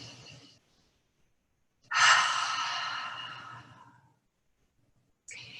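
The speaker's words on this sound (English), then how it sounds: "Take one cleansing breath. Inhale through your nose, exhale through your mouth." A single cleansing breath drawn in through the nose and let out through the mouth, a close, loud breathy exhale lasting about two seconds, with quieter breaths at the start and end and no talk.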